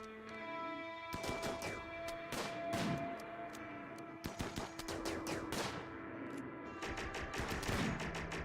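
Gunfire in the space game Elite Dangerous Odyssey, with repeated bursts of sharp, cracking shots in clusters across the clip over a steady humming backdrop, moderately loud and without talk.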